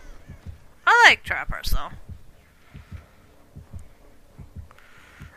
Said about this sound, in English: Oh, heartbeats.